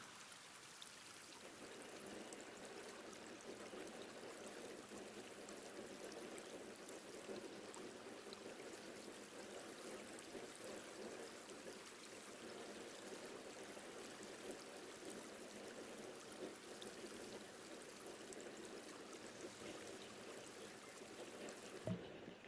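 Crops are watered in the video game Palworld, a steady, faint stream of pouring water that runs continuously for the whole stretch, alone and without speech.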